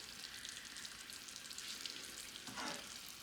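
Sugar for caramel bubbles and sizzles steadily in a pan on the stove, a dense close crackle of boiling with a brief louder swell near the end as the pan is swirled.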